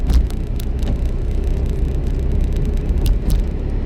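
A car engine rumbles steadily at close range during a driving lesson, a dense low drone that holds an even level with no clear surge, and no voices.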